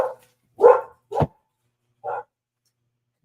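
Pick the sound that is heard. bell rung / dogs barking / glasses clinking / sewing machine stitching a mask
dogs barking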